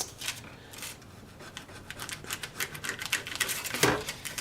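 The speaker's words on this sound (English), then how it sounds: "I was going to use my kitchen shears" Kitchen shears snipping through a sheet of raw carrot flax cracker, a quick series of crisp, close cutting crunches and scrapes, with a louder crunch near the end.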